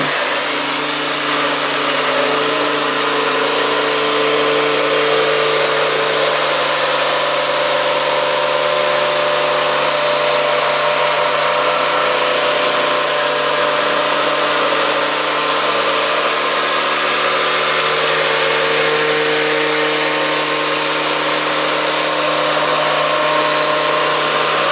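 A blender motor runs on raw food ingredients with a steady, loud whirring hum that holds unbroken for about 25 seconds, with no voices.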